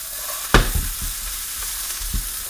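Blanched vegetables with red bell pepper sauté in a hot pan, a steady sizzle broken by a sharp clank of a utensil stirring and a few softer knocks against the pan.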